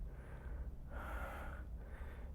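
Heavy, rhythmic breathing and gasping from someone worn out after a leg strength and balance workout, close and fairly loud, with a sharper breathy burst in the middle and no talking.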